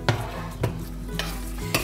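Chakalaka with tomato sauce is stirred in a pot on the stove, four spaced scraping strokes over a quiet simmer, with no voices.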